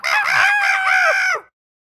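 A rooster crows once, loud and close, with a single drawn-out call lasting about a second and a half before cutting off into silence.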